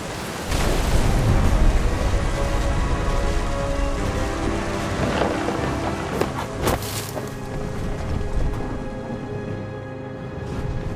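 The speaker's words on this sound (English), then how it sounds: "The thunder sounded much too close and full of angry power." Steady heavy rain with wind and rolling thunder during a storm by the sea in the game What Remains of Edith Finch, a dense wash of downpour with a few sharper cracks midway and no talk.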